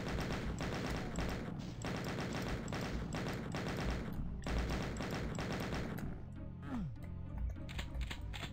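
Rapid bursts of enemy machine gun fire in DOOM II, a dense repeating rattle peppering continuously for several seconds before breaking into scattered shots and other game effects.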